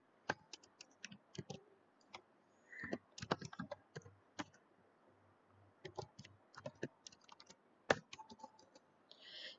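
Code being typed on a computer keyboard during Unity 2D game development, irregular bursts of close, crisp key clicks with short pauses between runs, no talking.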